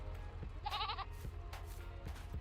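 A goat in Farming Simulator 22 gives one short wavering bleat, close and clear over a low background hum.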